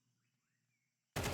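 Gunfire for a headshot in an esports shooter match: near silence, then a sudden loud, close burst of shots lasting about a quarter second at the very end.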